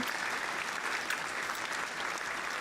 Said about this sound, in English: Soft hand clap, soft hand clap.